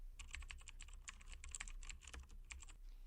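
Fast, steady typing on a computer keyboard while writing code for a beginner programming lesson, close and clear, with a rapid run of light key clicks and a short pause near the end, no voices.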